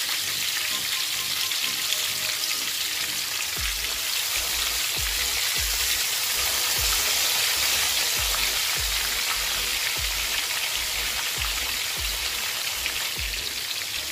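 Chicken legs for tandoori fried chicken frying in hot oil give a loud, steady, dense sizzle that runs throughout, with soft recurring low thumps beneath it.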